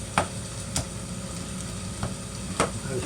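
Whole tomatoes cooking in a pan, sizzling steadily with several sharp pops scattered across the moment, close and fairly quiet, with no talking.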